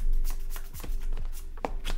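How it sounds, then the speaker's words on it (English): Trading cards for a Weiss Schwarz match shuffled by hand at close range, a quick run of crisp riffling flicks and soft slaps repeating several times in a row with no talk over them. "We'll go ahead and shuffle them up for you."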